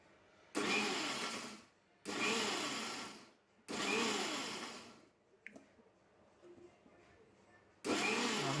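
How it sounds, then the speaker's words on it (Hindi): Kitchen blender grinding mango with sugar, four loud whirring bursts of a second or more each separated by short pauses, with a small clatter in one gap. "और अब इसे एक बार पीस लेते हैं।"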